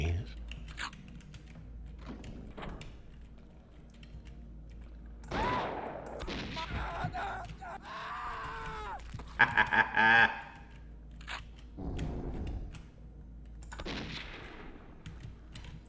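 A flare gun fires in the shooter game Blood, giving a few sharp, punchy shots among clattering game effects and a steady low background hum, with faint voices.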